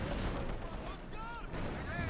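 Panther tank main gun and battle fire in Company of Heroes 2, heard as dense booming shots and rumble under an excited commentator's talk.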